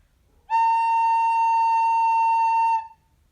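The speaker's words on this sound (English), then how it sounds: "This is the finger position for A, and it sounds like this." A single sustained note A on a recorder, played in a beginner lesson: a clean, steady, fairly loud whistle-like tone held for a little over two seconds alone, starting and stopping cleanly.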